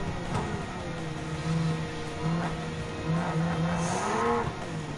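Race car engine in Gran Turismo 7 on a dirt track, a loud steady drone that rises and falls as revs climb and shift, with a tonal whine sweeping up near the end, no talking over it.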